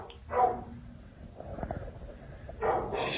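A dog inside an abandoned building barks in two sharp bursts at the start and end, with scuffling and shuffling in the echoing space between them, fairly close and loud.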